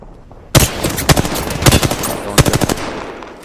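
Sharp bursts of automatic gunfire crack in Apex Legends, starting abruptly, then several loud, punchy shots in uneven succession over a steady background rumble, with no talk.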